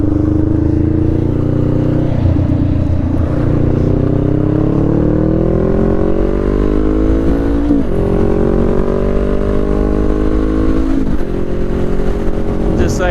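A motorcycle accelerates steadily onto a busy highway, its loud, close engine note climbing in pitch through the gears, with brief dips at each shift.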